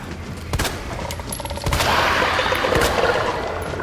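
Gunfire in Resident Evil 2 Remake inside the Umbrella laboratories, a couple of sharp shots followed by a loud, sustained roaring burst that stays dense and bright to the end.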